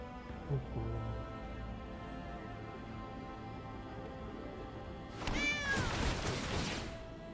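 Cat creatures being summoned in the Magic the Gathering video game: a low hum of game sound, then a sudden burst of several overlapping loud meows near the end.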